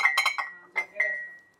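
A glass jug is picked up and handled in a home kitchen, giving a few bright, close clinks and taps in quick bursts with short pauses between them.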